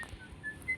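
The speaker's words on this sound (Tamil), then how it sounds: "யாரா அது விசில் அடிக்கிறது?" A person whistles a few short, thin notes while a mobile game plays, faint and brief with low background rumble and no speech.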